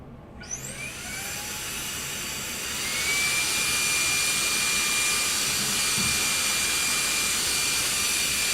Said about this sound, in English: see if I can vacuum this part